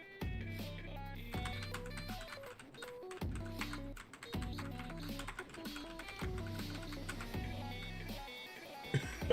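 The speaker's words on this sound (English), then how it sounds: "I press my keys so hard when I play this game." Hard, rapid presses on a computer keyboard during a Friday Night Funkin' rhythm game, close taps clattering in bursts over pulsing game music with a strong repeating beat.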